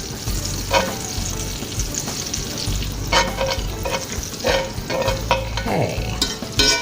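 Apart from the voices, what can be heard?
olive oil melting and sizzling in a skillet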